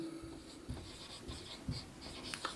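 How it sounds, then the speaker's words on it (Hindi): Pen writing on paper while a class 7 maths solution on exterior angles of a triangle is worked out, with soft close scratching strokes and small taps in an uneven rhythm, quiet and alone. "हम लोग यहाँ पे लिखेंगे क्लियरली"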